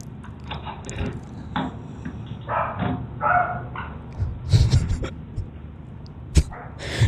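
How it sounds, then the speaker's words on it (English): A tiny poodle barks in short, scattered yaps, some sharp and close, chasing off would-be burglars, with brief voices and household noise between the barks. "this hilarious video shows a tiny dog chasing off wannabe burglars"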